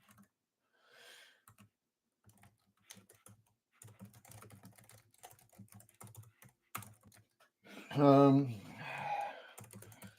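Computer keyboard typing during a late-night livestream, with quick irregular bursts of close key clicks mixed with brief stretches of a man's speech.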